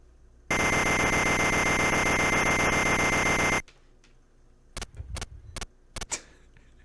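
A shrill, continuous electronic alarm rings loudly for about three seconds in the Game Boy Color game Wario Land II, then cuts off, followed by several short bleeps and game sound effects.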